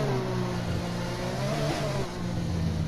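Race car engine in a racing video game revving and pulling hard, a steady droning whine that dips and climbs briefly partway through, loud and continuous with no voices.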